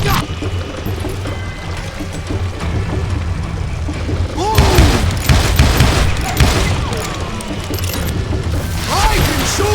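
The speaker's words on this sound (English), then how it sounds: "Dynamite!" Dynamite blasts in the Western shooter Call of Juarez: Gunslinger, a loud burst of explosions and crackling debris midway through, set among gunfire and rumbling, with a voice talking over it.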